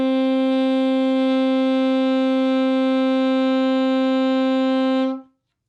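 A saxophone sounds a single sustained note A for about five seconds, a steady, clear, close tone held evenly at one loudness before cutting off into silence.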